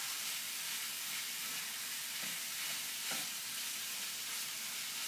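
Ground meat browning in a pan for a cheeseburger pie, giving a steady close sizzle and hiss with occasional faint stirring scrapes.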